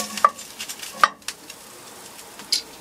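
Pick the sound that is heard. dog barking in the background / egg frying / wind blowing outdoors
egg frying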